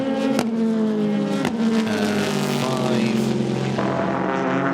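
Race cars at the Fuji six-hour endurance race, among them a blue and white Porsche and a yellow and black Corvette, roar past loudly with steady engine drones and shifting pitch, and a couple of sharp bangs come through.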